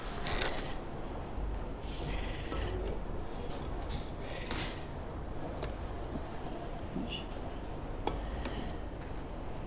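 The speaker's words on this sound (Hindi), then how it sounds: "फिर कसते हैं इसके स्क्रू।" Screws being tightened on a Royal Enfield Continental GT 650 aftermarket exhaust during installation, giving irregular metallic creaks and ratchet-like ticks close by over a steady low background rumble, with no talking.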